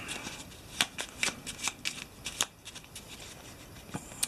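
Cards from an Eldritch Horror board game deck are cut and drawn in a quick run of crisp riffling flicks and snaps, close and fairly quiet, with short pauses between bursts.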